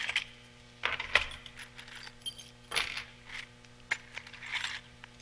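Metal keys clink and jangle while someone rummages through an overfull box of keys, making scattered bursts of close, bright metallic rattles with short pauses between them.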